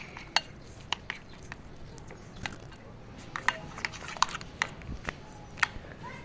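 Batter being mixed in a bowl, quiet soft stirring punctuated by sharp clinks of a spoon against the dish at irregular intervals, close and fairly faint, with no talking.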